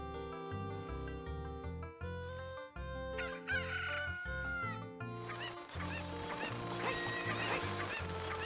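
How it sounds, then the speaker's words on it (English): Cuccos from the video game Ocarina of Time cluck and crow in bursts over bright, tonal game music, the bird calls layered among the melody at moderate loudness with no talking. "We've irritated the chickens."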